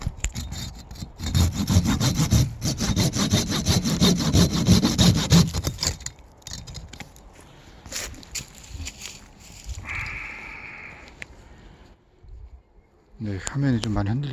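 Pruning saw cutting through a plum tree branch in an orchard, a loud rapid back-and-forth rasping that runs for several seconds, then stops; softer rustling and a brief voice follow, with talk mixed in.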